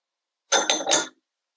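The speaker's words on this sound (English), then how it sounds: "now we're going to let the pineapple jump in the pot" Pineapple chunks drop into a pot of sweet and sour pork, giving one short, close clattering splash that lasts about half a second and is heard alone.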